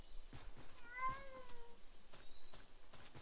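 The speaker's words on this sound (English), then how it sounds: "I say why there's a freaking cats roaming around there." A cat meows in the Minecraft video game, one clear drawn-out meow with a rising and falling pitch, fairly close and moderately loud over soft game background noise, with a few light clicks around it.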